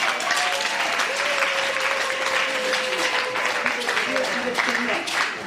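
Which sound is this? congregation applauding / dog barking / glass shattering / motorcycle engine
congregation applauding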